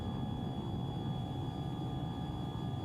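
In the video game Tiny Combat Arena, an aircraft takes off from a runway with a steady, droning engine roar. Faint whining tones sit above the roar, which stays even and constant throughout.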